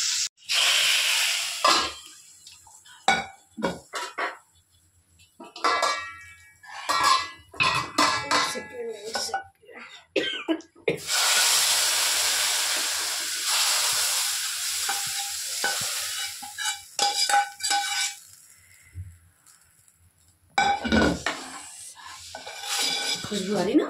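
Mutton dalcha fries with green chili and bay leaf in a pan: a loud, steady sizzle builds and hisses for long stretches while a spoon repeatedly scrapes and clatters against the pot close by.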